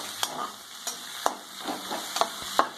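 Cauliflower fried rice with green chillies stirred in a hot pan, a steady sizzle under a handful of sharp scraping strokes of the spatula, close and fairly loud.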